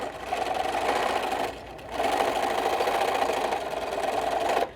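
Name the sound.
sewing machine stitching along fabric edge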